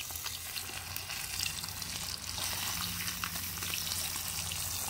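Bluegill coated in Louisiana Fish Fry fries in hot oil with a dense, steady crackling sizzle that grows slightly louder partway through, close up and without talk.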